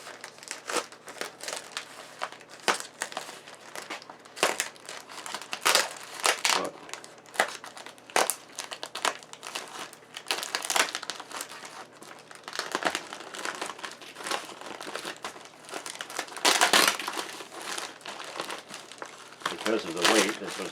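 Packing material crinkles and crunches loudly in irregular bursts as a damaged 1960 EICO 315 signal generator is unpacked, close up and continuous with occasional tearing.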